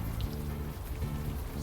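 Rain in the video game Unavowed falls in a steady, dense patter on surfaces, with a continuous wash of drops and no voices.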